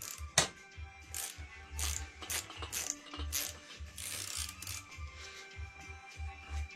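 Ratcheting clicks from a wrench working on the fork of a 2009 Yamaha YZ 125 dirt bike, with repeated bursts of rapid pawl clicking and short pauses between strokes, close and fairly loud with no talk.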